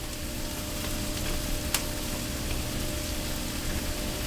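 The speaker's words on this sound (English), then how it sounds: "I've got my turkey grilling, I've got my peppers and my onions, I've got my bread toasting here" Steady sizzle of turkey grilling with peppers and onions while bread toasts in butter, a continuous moderate hiss with faint crackles and one brief sharp click.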